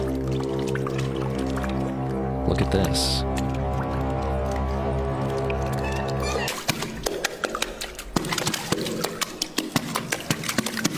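A woman plays water as a musical instrument, slapping and splashing it in rhythmic bursts after a steady droning hum, with a voice briefly speaking over it.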